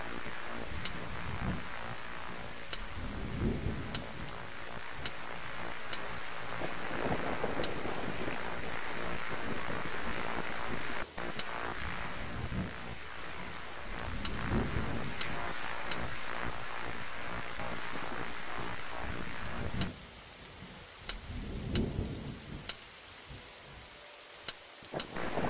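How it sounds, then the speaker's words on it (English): Heavy storm in The Darkside Detective game: dense, steady rain pours throughout with occasional crackles and low rumbles of thunder, fading somewhat near the end, no speech. "Look, detective, the storm is dying out."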